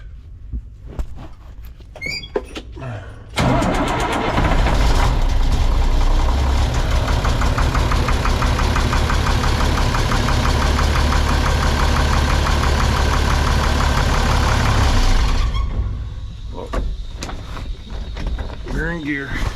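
International diesel truck engine with a newly installed high pressure oil pump starts and runs loud and steady with a heavy rumbling clatter for about twelve seconds, then drops back to a quieter idle.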